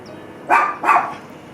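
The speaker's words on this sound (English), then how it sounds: "And the fucking dog." A dog barks twice in quick succession, two loud, sharp woofs close by indoors, then quiet room tone.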